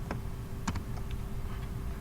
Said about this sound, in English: type in the command for message box, and then type the phrase buy the corn